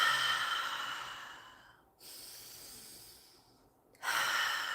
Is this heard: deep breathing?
yes